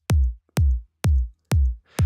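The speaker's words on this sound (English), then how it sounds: "What I do first for every kick drum is tune it to the key of the track." A punchy tropical house kick drum sample tuned to C sharp strikes four times in an even, isolated pattern, each hit a deep booming thump with a quick click on top and a short decay into silence.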